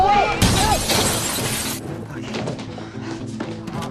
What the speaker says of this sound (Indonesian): Kelly pun memecahkan kaca tokonya.